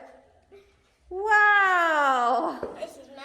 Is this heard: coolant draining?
no